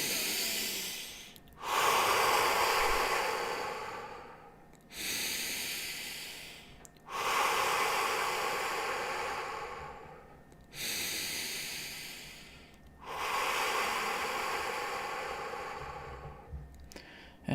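Slow deep breaths during meditation, five long airy inhales and exhales in a steady unhurried rhythm, close and clear, each separated by a brief pause, with no talking.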